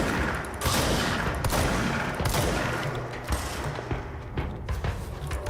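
Rapid sniper and rifle gunfire from the video game Control rattles in dense, loud bursts with heavy thuds, a continuous barrage of shots filling the whole stretch.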